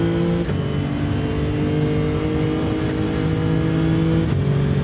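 Nissan GT-R engine in Gran Turismo 7 drones steadily and loudly at sustained revs, a continuous mid-pitched engine note that shifts slightly as it holds through the clip, with no talk.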